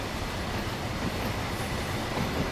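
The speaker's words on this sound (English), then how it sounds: "this petroleum train is actually going" A petroleum freight train in Train Sim World 6 rolls on the Medway Valley Line toward Strood, producing a continuous loud rumble and rushing roar with faint wheel noise and no talking.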